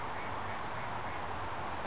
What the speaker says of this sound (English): I hear a duck quacking, QT. That sound effect is gonna cost you.